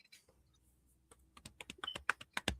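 Rapid, uneven clatter of fingers typing on a computer keyboard, starting sparse and quiet, then building into a louder, quicker run of close-up keystrokes with no one talking.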